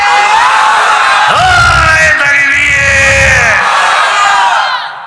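A large religious gathering shouts the Nara-e-Takbir chant in unison, a loud, sustained mass cry of many voices that rises, swells across two surges, then fades out at the end.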